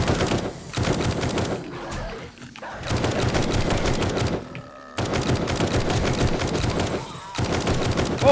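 Gunfire in the zombie survival game 7 Days to Die, several sustained bursts of rapid automatic shots at close range, broken by short pauses, with no talking.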